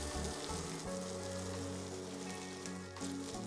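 Red peppers and shrimp sizzle steadily in a hot pan, a continuous close frying hiss with a low hum underneath and no talking.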